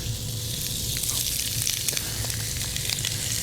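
Calamari coated with salt and pepper sizzles and crackles steadily in a hot pan, a dense, continuous hiss with small pops, fairly close and without anyone talking over it.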